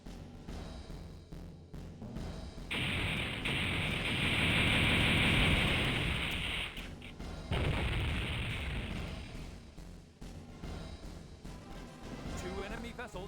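Ship cannons fire in the Infinite Space video game, a dense roaring barrage of booming blasts swelling loud for several seconds, then breaking off and returning in a second burst.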